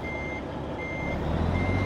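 Steady, evenly spaced reversing beeps from a Mack R truck with a 237hp engine in Euro Truck Simulator 2, sounding alone over a continuous low engine idle rumble.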